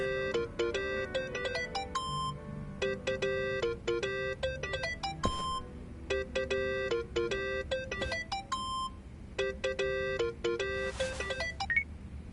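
An electronic phone ringtone from the video game Yakuza plays a repeating melodic beeping pattern in bursts, steady and fairly loud over a low background rumble.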